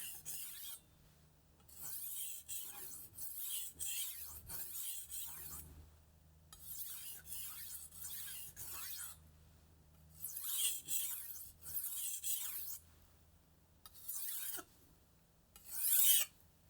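A Global G-2 chef's knife is drawn across Atoma diamond plates with light pressure, giving rhythmic, gritty rasping strokes in bursts separated by brief pauses, close and clear with no talking.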